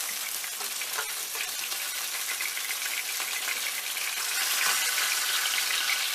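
Sausages sizzle and fry steadily in a pan, a dense crackling hiss that grows slightly louder toward the end, with no talking.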